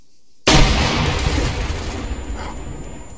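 An EMP grenade detonates in the Arma 3 military video game, a single sharp blast after a moment of silence, followed by a decaying rumble and faint electronic whine tones.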